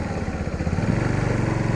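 A motorcycle engine labors steadily at a hilly hairpin turn on the road up to Kapilash, a low, even throbbing drone heard close up with no voices.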